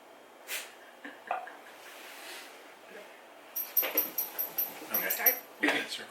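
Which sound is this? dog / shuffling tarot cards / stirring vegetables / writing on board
dog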